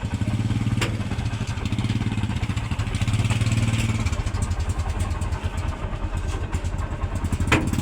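A motorcycle tricycle cab rumbles steadily while riding, its mid-pitched engine droning close and constant with clattering thumps over the whole stretch, and no talk heard.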